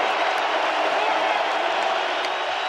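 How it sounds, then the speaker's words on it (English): Loud, steady roar of a packed stadium crowd at an NFL game between the Bills and Vikings, a dense wash of cheering and noise holding constant throughout with no clear breaks. "now the crowd noise is loud"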